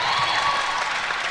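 A netball crowd at a Northern Ireland versus England Europe Open Championships match applauds and cheers, a steady wash of clapping with a few voices, no commentary over it.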